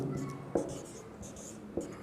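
A pen writes on paper during a math lesson, with soft scratchy strokes and two sharper taps as the pen presses down, close and fairly quiet.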